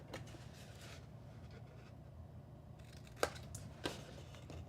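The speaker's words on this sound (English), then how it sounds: "I'm just going to miter cut on either side of that slit we made." Scissors make quick miter cuts in paper card for a gift card pocket folder, two crisp snips standing out against a steady low background hum, close and with no talk.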